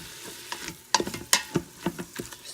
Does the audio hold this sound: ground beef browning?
yes